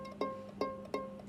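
Ukulele notes fretted directly on the fret, sounding dull and muffled: four evenly spaced plucked attacks over a steady sustained tone, close and moderately quiet, with no talking.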